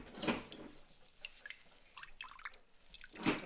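Buttermilk squeezed from cheesecloth while making homemade butter drips and splashes in a few faint, irregular patters, with louder drops near the start and the end.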